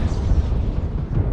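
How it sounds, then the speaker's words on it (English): Deep rumbling blast as Gauss rifle ammunition explodes inside a Vulcan 2T mech in MechWarrior Online, a loud sustained low boom filling the whole moment with no distinct separate hits. "Weapon explosion. My Guass rifle ammo exploded."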